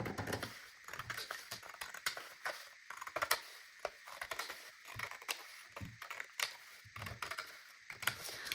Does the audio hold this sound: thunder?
no